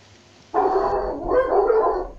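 A pet dog barks once, then gives a rough, drawn-out yelp close to the microphone, loud against a quiet background.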